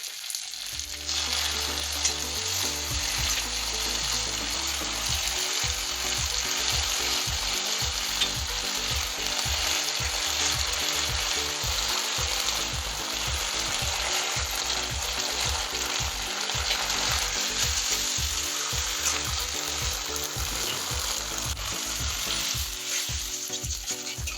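Dry red chillies and finely chopped garlic fry in hot oil for a restaurant-style Schezwan chicken. A loud, continuous sizzle with rhythmic stirring scrapes runs throughout, with no voices.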